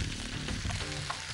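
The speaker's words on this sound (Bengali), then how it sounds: "এবার এটাকে লাল লাল করে ভাজবো।" Spices frying with coconut paste in a pan, a close, steady sizzle with light stirring scrapes, continuous through the brief moment and free of any talk.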